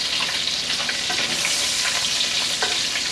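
Bacon sizzles and crackles in a frying pan with a loud, continuous hiss and scattered pops, close up with no voices.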